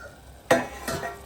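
A metal lid is set onto a cooking pot, giving a sharp clank followed by a softer second clink, close and brief, with no voices.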